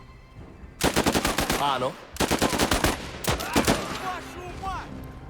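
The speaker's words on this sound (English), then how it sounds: "Machine gunners are holding on from both directions, making sure to prioritize the target." Rapid machine gun bursts in a video game, three loud close volleys of fast repeated shots separated by short gaps, with a brief word spoken between them.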